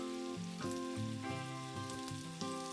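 Flipped pancetta medallions sizzle and crackle steadily in a frying pan under fairly loud background music, with no talking.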